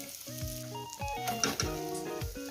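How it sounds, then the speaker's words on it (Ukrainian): Syrniki, cheese pancakes, fry in a pan over medium heat with a steady soft sizzle, while clear tonal clinks and rings sound over it in the kitchen. "Трошки підсмажились з другої сторони."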